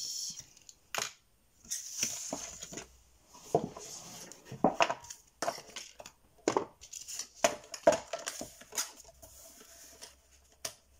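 Cardboard being cut by hand for a homemade box, a series of close, sharp snipping and scraping strokes in irregular bursts with short pauses between them, no talking.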